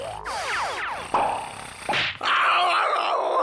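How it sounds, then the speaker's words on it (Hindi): Shishimanu, a cartoon character from Ninja Hattori, snores loudly in exaggerated groaning sweeps, with several rising and falling wheezes followed by a heavy, rumbling drawn-out snort. "ये तो तुम्हारे खर्राटों की आवाज थी शिशिमानु"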